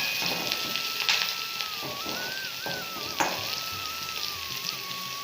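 Onions frying with green chilli and dried curry leaves in a pan, a steady close sizzle and crackle running throughout, with a tonal whine sitting above it.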